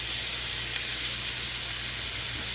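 Stuffed pork chops fry in a pan with a constant, even sizzle and a bright hissing spatter, close and steady over a low background hum, with no voices.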